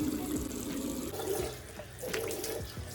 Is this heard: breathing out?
no